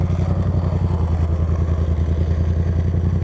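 A Yamaha XSR700 Café Racer motorcycle engine at low speed, a close, steady throbbing pulse that holds evenly with no clear gear change.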